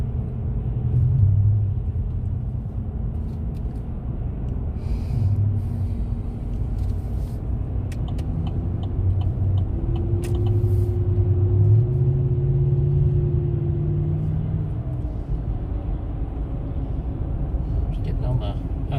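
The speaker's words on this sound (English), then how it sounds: "Golly, look at the traffic, y'all." A car cruises along a busy highway near Memphis in heavy traffic, giving a constant low road rumble and engine drone with occasional passing swells, and people talk over it inside the cabin.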